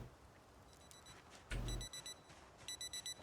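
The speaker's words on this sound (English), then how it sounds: "Stop alarm." Alarm clock in the video game Project Zomboid beeping in short repeated electronic pulses, fairly faint, with a brief thud and short bursts of beeps, no speech.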